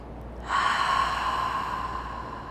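A long cleansing breath during a yoga class, drawn in sharply and then released steadily for about two seconds. It sounds near, airy and fairly loud, with no talk over it.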